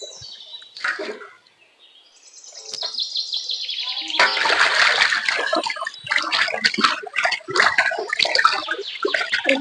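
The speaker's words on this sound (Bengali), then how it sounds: "মাছগুলো ভালো করে ধুতে হবে।" Tilapia pieces being rinsed by hand in a bowl of water, with steady sloshing and splashing that builds after a quiet start and continues close and fairly loud, with brief faint chirps early on.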